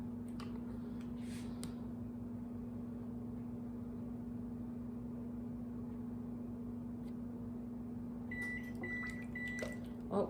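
An oven timer gives three short electronic beeps near the end, faint and distant over a steady humming drone in a home kitchen, with no one talking.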